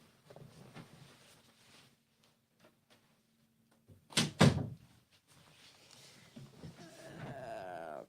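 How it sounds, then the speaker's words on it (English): A door swings shut with a sharp thunk about midway through, preceded and followed by quiet room noise and faint background activity. "I might close my door too"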